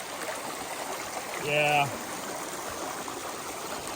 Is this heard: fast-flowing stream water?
yes